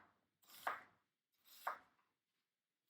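Two firm knife strokes through an onion on a cutting board, each a soft crunchy chop about a second apart, close and clear with silence between.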